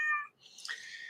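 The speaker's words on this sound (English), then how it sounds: "The cat is right there, and as soon as I turn the cameras on, meow, almost immediately" A house cat meows twice in quick succession, a short high call followed by a longer, rising one, fairly close and quiet with no talking.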